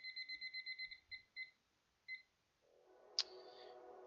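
A cheap Temu timer being set: a quick run of eight short electronic beeps, then a few more spaced single beeps, followed by a brief sharp click over faint background hiss.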